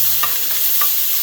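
Steak sizzles steadily in a hot pan while being warmed briefly to keep it medium rare, a loud continuous hiss with a couple of faint stirring knocks and no talking.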